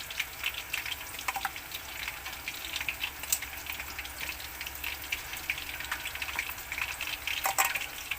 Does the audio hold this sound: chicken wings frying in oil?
yes